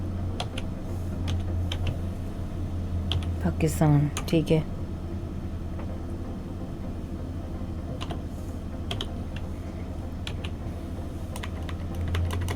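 Typing on a computer keyboard, a run of quick, close key clicks in uneven bursts, partly under someone speaking.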